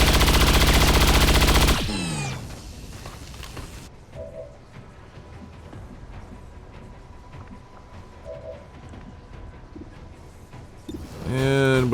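Loud burst of automatic gunfire from XCOM 2: War of the Chosen, a dense sustained volley for about two seconds, then quieter game ambience with faint tonal blips and a short rising electronic sweep at the end.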